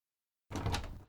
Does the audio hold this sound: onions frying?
no